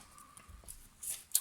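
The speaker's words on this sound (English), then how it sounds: "Now what I want to do is cut this" Scissors cutting patterned paper for a handmade card, a few short crisp snips close by with small rustles between, the last two cuts sharpest.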